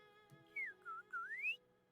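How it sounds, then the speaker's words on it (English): A finch whistle in the game Genshin Impact gives a faint melodic call of three sliding notes, rising and dipping then climbing, over a quiet steady background with no talking. "Is that a finch whistle?"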